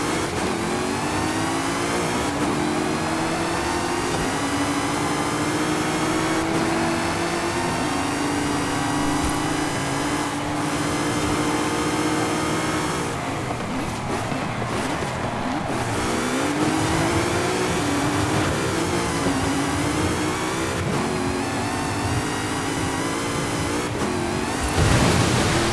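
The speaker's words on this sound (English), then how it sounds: "This Mustang loves to spin out, man. It is just spinning out like crazy." Ford Mustang engine in Forza Horizon 5 during a gauntlet race, a steady loud revving drone with rising and falling pitch as the car spins out, continuous and close throughout.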